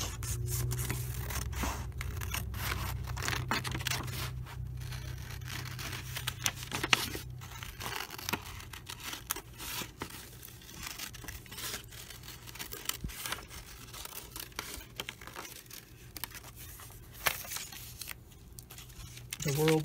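Scissors snip and paper rustles while pages are cut for a bird-themed junk journal, close, irregular cutting and crinkling noises running throughout alongside intermittent talking.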